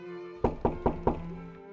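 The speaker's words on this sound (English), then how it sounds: "Joff was wondering when the commander would return to debrief them when he heard someone knock on the door." Four evenly spaced, solid knocks on a door in a visual novel game, close and crisp, set over a quiet, steady background tone.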